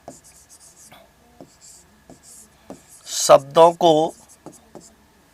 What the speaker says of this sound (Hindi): तो मैं यहां लिख देता हूं